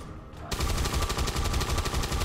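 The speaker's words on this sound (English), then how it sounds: "that's some nice chain gun damage there." Chain gun firing in XCOM 2, a continuous rapid burst of automatic fire with a steady rattling rhythm that begins after a short quiet moment and stays loud and close to the end.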